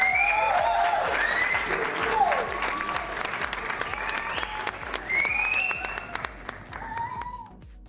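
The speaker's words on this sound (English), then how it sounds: "round of applause" Audience applause at a live spin painting show, a steady round of clapping from a crowd with whoops and bright cheering voices over it, loud and sustained before fading at the end.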